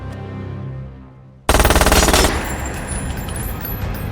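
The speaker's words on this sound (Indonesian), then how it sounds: "Jason di sini sedang melakukan perlawanan aksi tembak-menembak dengan para antek-antek dengan gaya point blank" Rapid automatic gunfire erupts in a movie shootout at point-blank range, a loud rattling burst of closely spaced shots after a quieter rumbling lead-in, followed by continued chaotic firing and action noise.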